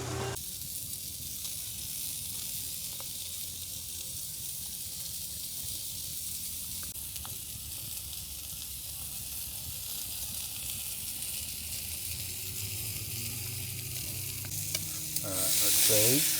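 Steak sizzles on a hot grill at Blowering Dam, a steady, dense crackling hiss that holds throughout, with faint scraping and small clicks as the meat is moved. A brief louder rustle comes at the very end.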